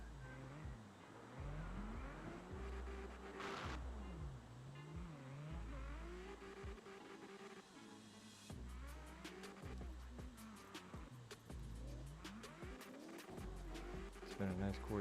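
Cars drifting at night in CarX Drift online, engines rising and falling in repeated revving sweeps with tire squeal through the turns, loud and continuous while someone talks over them.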